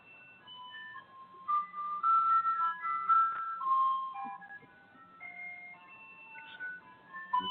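An ice cream truck's chiming tune plays outside, a thin, wandering melody of bright electronic notes heard at moderate distance for several seconds, with no one talking over it.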